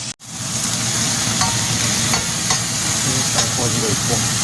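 Chapaguri noodles with sirloin sizzle steadily in a pan, a constant close frying hiss broken by a few soft scrapes and clicks of stirring.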